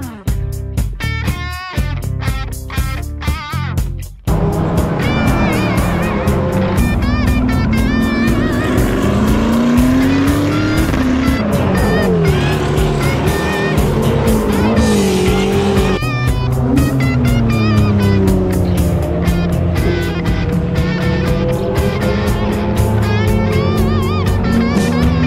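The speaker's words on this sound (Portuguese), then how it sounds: "tendo treinos ao longo de todo o dia de carros de turismo, carros de fórmula e protótipos" Race cars at Paulista de Automobilismo practice sessions for touring cars, formula cars and prototypes, engines roaring loud and continuous, with passing revs and shifting pitch, after a brief choppy start.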